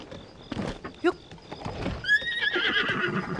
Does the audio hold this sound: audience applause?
no